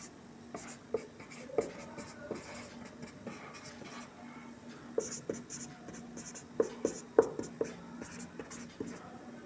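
A pen writes math values on paper while a Class 9 lines-and-angles problem is worked through, with close, scratchy strokes and taps that come in short irregular bursts and no talking.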